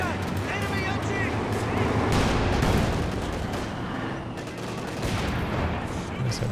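Anti-tank gun firing at a command tank in Company of Heroes 2 amid a dense, continuous roar of battle, with heavy booms and gunfire layered into a loud wall of combat noise, voice commentary running over it.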